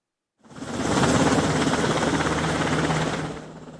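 A Special Warfare Command helicopter carrying 707th Special Mission Group troops, landing on a sports field behind the National Assembly main building at night, gives a loud, steady rotor and engine roar that starts abruptly and holds with a rapid beating pulse.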